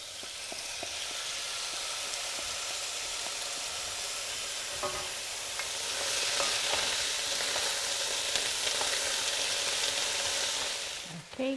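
Chicken and vegetable stir fry sizzling and frying in a hot pan, a loud continuous hiss that swells midway, with occasional stirring clatter and a clank at the end.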